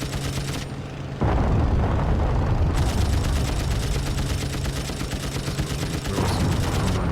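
Aircraft machine guns in the video game Wings Remastered chatter in a sustained, loud stream of rapid fire, starting after a brief quieter engine drone and continuing to the end.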